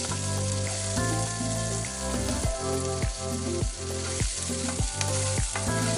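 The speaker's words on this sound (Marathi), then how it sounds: "इथे मी आधी उभा चिरून घेतलेला कांदा तेलात भाजून घेणार आहे." Sliced onion fries in oil for a pea curry, giving a steady close sizzle broken by regular rhythmic scrapes of stirring. There is no speech.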